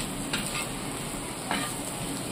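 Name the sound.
egg bhurji masala frying and being stirred in a pan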